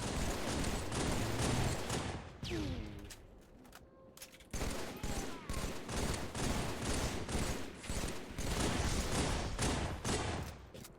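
Rapid bursts of gunfire from the Halo video game, dense and loud, firing nearly continuously across the span with a short lull in the middle before the shooting resumes.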